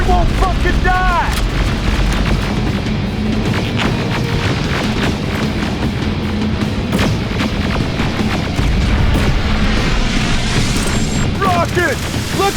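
Heavy booms and blasts from rockets and explosions in the Terminator Resistance video game, dense, loud and overlapping, with battle clatter and shouted voices throughout.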